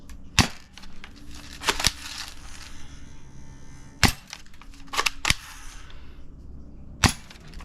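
A cheap spring-powered airsoft rifle fired in a backyard: several sharp, snappy cracks spaced irregularly, some in quick pairs, with a quieter mechanical rattle and background noise between shots.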